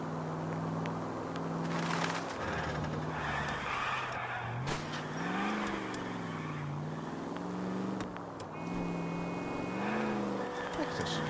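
A car in the L.A. Noire video game drives and drifts, its engine pitch rising and falling through repeated accelerations while tires squeal in bursts.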